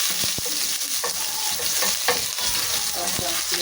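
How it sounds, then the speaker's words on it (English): Onion fries in a pot for a jute mallow and cowpea leaf dish, with a steady sizzle under repeated scraping and knocking of a spoon as it is stirred, close and without speech. "Ensure your onion cooks well and golden brown."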